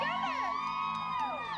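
A concert crowd cheers and whoops loudly for the singer Christina, a dense continuous roar of voices with high shrill shouts rising over it throughout.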